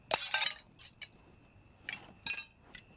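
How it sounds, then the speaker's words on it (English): A wedding glass is symbolically broken, giving bright crunching and tinkling bursts of glass shards in several short clusters, fairly faint and without talking. "after symbolically breaking their wedding glass"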